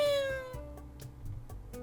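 A black cat in Dandelion: Wishes Brought To You lets out a clear, close meow that glides downward and fades, followed by soft rhythmic tapping in the background, with no voices.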